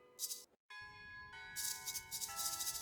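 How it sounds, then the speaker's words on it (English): Tonal bell melody playing Mary Had a Little Lamb inside the Shadows Over Loathing video game, a sequence of sustained ringing chime notes with a brief silent gap early on, fairly clear and alone. "the bell's playing Mary Had a Little Lamb"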